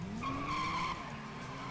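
Car tires skid and squeal in the FiveM video game as a tuned, faster car loses traction, a rising screech over engine noise that peaks early and then fades into a steady rumble.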